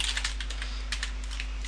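Rapid typing on a computer keyboard at a server's command prompt, a steady close patter of light key clicks with a few louder taps, over a constant low electrical hum.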